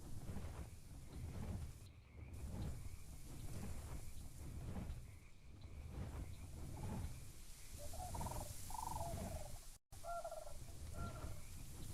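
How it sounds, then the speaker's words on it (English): Thunderstorm in the video game Ark Survival Evolved: steady rain-like wash with low rumbling thunder throughout, a brief cut near the end, and faint bird-like chirps over the top. "We got a little lightning."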